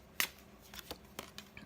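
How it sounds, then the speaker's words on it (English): A large tarot deck of over 90 cards is shuffled by hand, producing a series of faint, sharp papery riffles and clicks at irregular intervals. "a regular deck is about the size of all these cards here, and you can, you know, shuffle like this"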